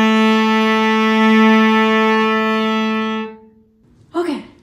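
A single sustained bowed cello note on the A string, bowed at the wrong angle, harsh and buzzy, held for about three seconds before cutting off, followed by a brief voice.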